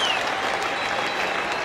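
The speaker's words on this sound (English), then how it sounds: "A mighty cheer for Michael Clarke and Brad Haddin" Crowd at a 2009 Ashes Test match between England and Australia cheering and applauding Michael Clarke and Brad Haddin, a dense, steady wash of clapping from a large, distant stadium crowd.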